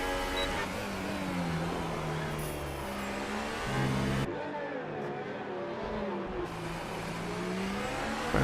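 Formula racing cars in a racing game set at Singapore, with a Williams among them, accelerate with high, rising engine whines that shift pitch through the gears, one car close and others layered behind.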